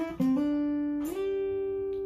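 Single electric guitar note bends and slides upward along the G string to the 12th fret, a few picked attacks at the start, then one sustained ringing tone, close and clean with no talk.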